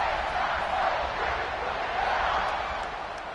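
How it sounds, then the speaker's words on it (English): A football stadium crowd cheers and roars in a broad, steady wash of noise that eases slightly near the end, with no clear talking. "this crowd is feeling themselves after that last drive"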